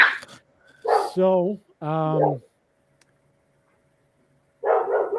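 A dog gives a couple of close, high, strained bark-like yelps in quick succession, with a person's voice briefly before and after.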